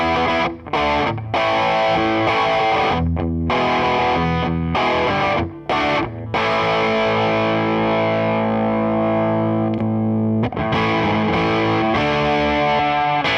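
A Fender Mark Speer Signature Stratocaster electric guitar is played through its bridge pickup with heavy distortion and effects. Dense, loud chords ring out, separated by brief pauses, and one sustained chord holds near the end.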